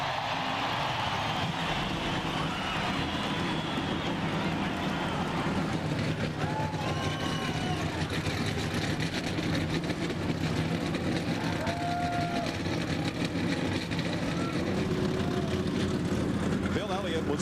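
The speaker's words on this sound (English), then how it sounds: "Drivers in the Samsung RadioShack 500, start your engines!" NASCAR stock car engines at the 2002 Samsung RadioShack 500 roar into a loud, steady, dense rumble filling the whole stretch, with a crowd and a booming announcement on top.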